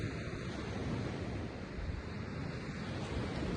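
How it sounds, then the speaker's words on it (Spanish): Steady broadband sea surf washes continuously in the background, a dense rushing roar of waves with some wind buffeting the microphone and no distinct breaks. "ahora con el mar de fondo"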